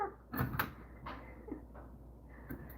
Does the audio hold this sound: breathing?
no